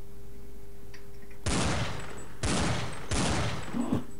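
Pump shotgun blasts in the game Counter-Strike 1.6: three loud, booming shots spaced about a second apart, each with a short decaying tail, heard alone without talk.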